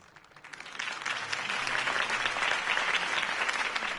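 Crowd applause after a campaign speech in a Batman video game, a dense wash of many hands clapping that swells in quickly and holds steady and loud.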